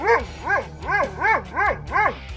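A Doberman barks six times in an even, rhythmic series, each bark loud and close with a rising-then-falling tone and short gaps between them.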